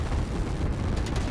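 Artillery fire in the strategy game Line War, a dense continuous barrage of low rumbling booms with no gaps, heard steadily throughout.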